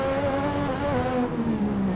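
An F1 car engine in the racing game Assetto Corsa, shifting up through the gears: a loud, steady, buzzing engine note that holds close and drops slightly in pitch as the gear changes.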